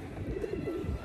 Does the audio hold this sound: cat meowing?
no